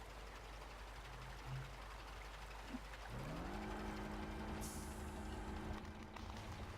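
A heavy logging truck in the Spintires flood map drags timber logs behind its trailer, a steady low engine drone with rising tonal strain and scraping, one faint high hiss late on, no talking.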